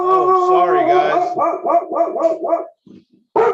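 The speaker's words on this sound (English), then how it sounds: "Oh Jesus, hush dog," A dog barks loudly and excitedly in a rapid run of howling barks close by at an Amazon delivery man, then falls briefly quiet before a person speaks.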